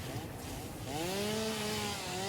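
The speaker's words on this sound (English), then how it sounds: "So now we can take out our chainsaw" Chainsaw cutting trees in the video game Satisfactory, a steady buzzing engine whine that rises in pitch as it bites, continuous and close for about two seconds with no talk.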